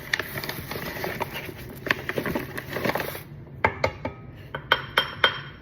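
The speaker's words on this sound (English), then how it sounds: "You want to mix it until just combined." Muffin batter being folded with flour until just combined, giving a run of soft clinks and scrapes of a utensil against a mixing bowl, uneven and close, growing sharper and more spaced toward the end.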